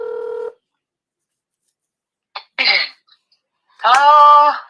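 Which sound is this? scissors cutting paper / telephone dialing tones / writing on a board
telephone dialing tones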